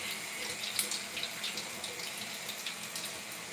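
Water runs steadily from a tap while hair is being washed, a close, hissing splash with small irregular spatters and no one speaking.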